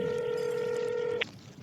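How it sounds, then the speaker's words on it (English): A phone is dialed, giving a single steady electronic tone that holds for about a second before cutting off with a faint click, then quiet room noise. "Georgie steps away from Mac and dials her phone."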